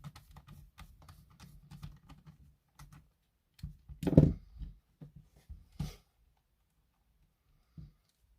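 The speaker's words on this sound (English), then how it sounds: "put the screws back in" Small screws being fitted back into a PS4 controller, heard as light, close clicks and taps in an irregular sequence, with a louder clatter partway through and quiet pauses between.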